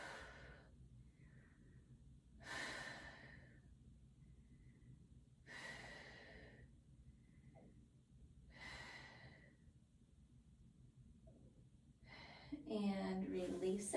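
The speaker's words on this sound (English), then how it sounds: "5 deep breaths right here." Slow, deep breathing while holding a seated right glute stretch in a workout session: three long airy inhale-exhale swells spaced a few seconds apart, close and fairly quiet, with a brief rustle near the end.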